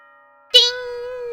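A bright electronic chime rings once before a school announcement in the Danganronpa video game, a struck tone that settles into a clear sustained note.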